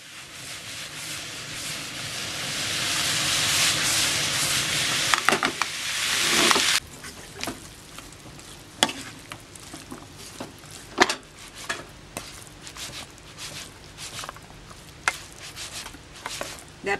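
Vegetables for lumpia filling sizzling and being stirred in a frying pan: a loud hiss of frying for several seconds, then quieter spoon scrapes and irregular clatters against the pan.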